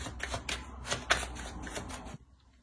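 Lenormand fortune-telling cards shuffled by hand, a close run of quick papery riffles and flicks that stops abruptly into near silence.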